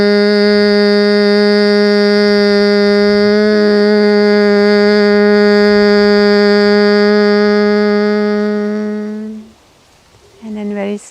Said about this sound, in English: And now start humming.